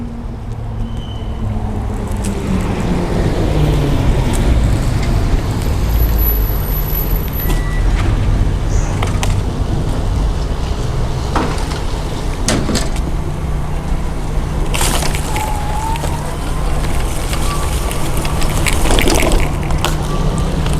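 A Quantum Q6 Edge mid-wheel power wheelchair with a power seat lift drives across grass, giving a steady loud motor whine with rustling, bumping and rolling noise throughout and no talking.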